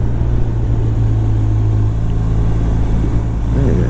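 BMW R1200RT motorcycle engine on a ride along twisty roads, a loud steady low rumble under buffeting wind, holding an even drone with a slight change in pitch partway through.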